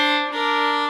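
A cello double stop bowed mostly on the D string, one sustained, rich, steady chord held close and loud for about a second.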